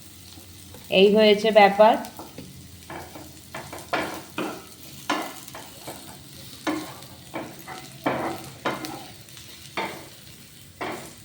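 Food is stirred and fried in a pan, with a soft sizzle and repeated scraping strokes at irregular intervals; a voice speaks briefly near the start.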